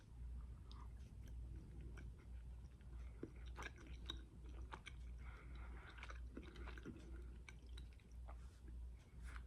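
A cherry Lifesaver gummy is chewed close to the mic, giving faint, moist squishing and smacking in a steady rhythm over low background hum, with no speech.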